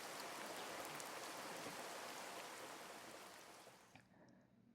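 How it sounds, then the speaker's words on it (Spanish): Heavy rain pours down hard onto the ground in a dense, steady hiss with scattered drop impacts, holding constant before thinning and fading toward the end. "El chaparrón azotaba el suelo con tanta fuerza que las gotas rebotaban hacia arriba"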